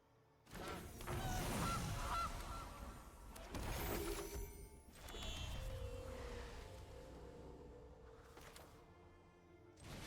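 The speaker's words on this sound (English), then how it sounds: "Gilded Goose." Cartoonish goose honks from the Gilded Goose card in Magic: The Gathering Arena, several loud squawking calls mixed with shattering and chiming game effects, no talking.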